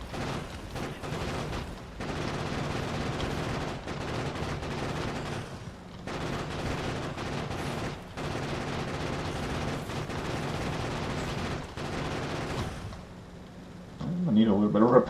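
Rapid sustained automatic gunfire against alien nests in the Factorio video game, steady rattling bursts separated by brief pauses, with a different clatter near the end.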